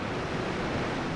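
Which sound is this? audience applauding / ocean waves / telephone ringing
ocean waves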